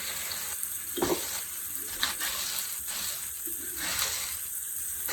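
Small pork medallions for smothered Cajun pork brown in a pan with a steady, moderately quiet sizzle and occasional soft clinks, with no talk.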